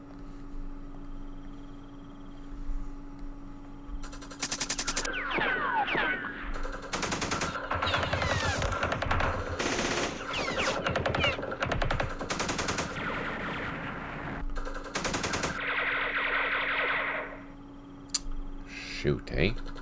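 Machine gun fire in the Vietnam wargame Campaign Series Vietnam, Dien Bien Phu scenario: repeated loud bursts of rapid shots at irregular intervals, with a steady hum and a person talking throughout.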